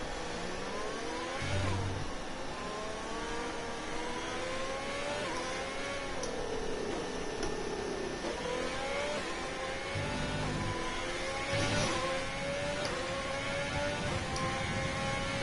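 A Formula 1 car in the racing game F1 2020 accelerates on track, its high-pitched engine climbing repeatedly through the gears with steady droning noise underneath and no voices.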